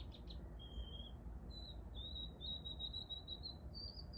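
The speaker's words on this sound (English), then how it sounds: "That's a little sparrow." A small sparrow singing outdoors in the morning, several thin high chirps and short trilled phrases repeating across the stretch, faint and somewhat distant over a low steady background hum.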